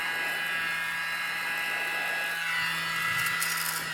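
A mini blower hums steadily at close range as it pushes air onto wet fluid art paint to form a bloom, a constant whirring drone with no talk.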